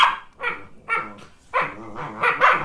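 A dog named Noodles barks in a series of sharp, close, loud yaps in quick bursts, with short pauses between them and one strong bark after another near the end.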